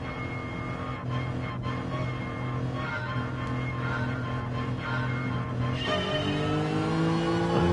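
TCR touring race cars launching off the start line together, their engines droning loudly and steadily, with the revs climbing toward the end.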